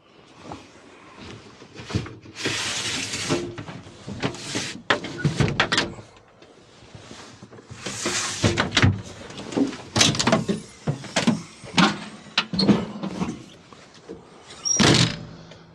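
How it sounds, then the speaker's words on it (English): Side windows of a Case 580SK backhoe cab being shut: a string of sliding scrapes, clunks and latch thunks, close and fairly loud, with short pauses between the movements. "to close these side windows, you just flip down on that"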